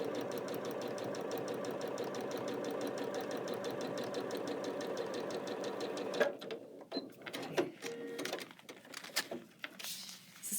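Sewing machine stitching half square triangle units pieced on triangle papers, a steady fast whirring rattle running continuously for about six seconds, then stopping into quieter scattered handling clicks and thumps.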